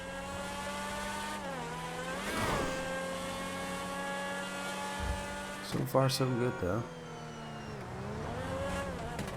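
A fast car in GTA Online, engine whining and rising in pitch as it accelerates and shifts, with a few sharp bumps midway, while someone talks over it.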